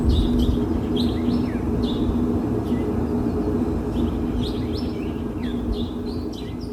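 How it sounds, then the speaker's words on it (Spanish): Small birds chirping and trilling in a played-back recording, quick bright repeated calls over a steady loud hum and background noise. "Lo que quiero resaltar en ese audio es el trinar de los pajaritos"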